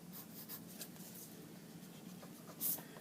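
Pencil or marker drawing a line on paper, a soft continuous scratchy rub with faint strokes, close and quiet, ending in a brief louder scrape.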